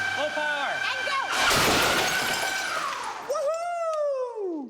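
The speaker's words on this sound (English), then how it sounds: "Instead of throwing the glass, the machine smashed it to smithereens" A glass-throwing machine running at full power smashes a glass with a loud, sudden burst of shattering amid mechanical noise, while excited voices shout and cheer.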